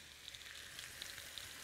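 Bacon frying in a pan in a home kitchen, a steady soft sizzle with faint crackling pops, low and continuous, no voices.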